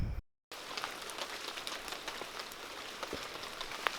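Rain patters steadily through a New Zealand forest at night at the start of the Heaphy Track, an even hiss of falling water broken by scattered nearby drips, with no talking.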